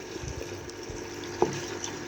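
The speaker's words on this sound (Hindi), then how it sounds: "ये 1 कटोरी इसमें मैं पानी ऐड कर रही हूँ" Water poured from a bowl into a cooking pot of chicken korma for pressure cooking, a fairly quiet, steady liquid fill with a brief clink partway through.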